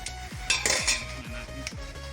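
Metal pots and utensils clink and scrape while Filipino adobo cooks, with rhythmic stirring knocks against the pan, a few sharper clatters, and a faint sizzle underneath, close and fairly loud with no talk.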